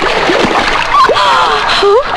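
Water splashes and sloshes as someone dips into the cold Ganges river, with nearby voices chattering over the churning water.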